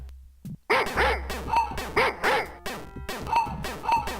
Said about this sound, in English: There are a lot of dogs here.